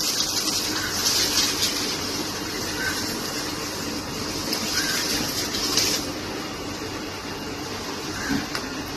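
Water spraying steadily from a hole in a garden pipe while plants are watered, a continuous close hiss and gush with a brief surge near the middle and no pauses.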